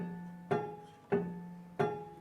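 John Cage's prepared piano, with screws, bolts and strips of rubber wedged between the strings, struck three times at an even pace, each note a soft percussive attack with a short ringing decay, quiet and alone.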